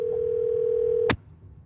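A steady telephone dial tone hums on a call to a friend, holding loud and unbroken for about a second before cutting off abruptly, with faint room noise left behind.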